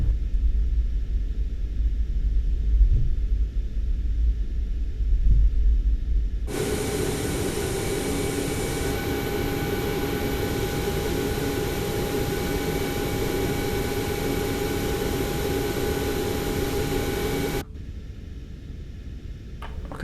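A Boeing 737 MAX 8 taxis across a non-passenger apron at Tromsø Airport in a flight simulator, its steady jet engine whine and broadband rumble holding loud and even, then cutting off abruptly.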